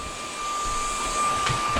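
A cordless stick vacuum cleaner of 400 or 500 watts runs with a steady, close motor whine and an airy rush that swells slightly toward the end. No one speaks.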